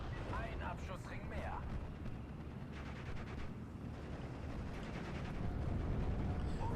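Tank and infantry gunfire from a Normandy 1944 battle in the Steel Division: Normandy 44 strategy game, Cromwell tank fire among it: a dense, steady rumble of repeated shots and bursts, fairly close, with talk over much of it.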